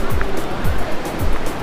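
Fast-flowing Ganga river water at Gangotri rushes loudly and close, a dense continuous roar with rhythmic surges, and no voices are heard over it.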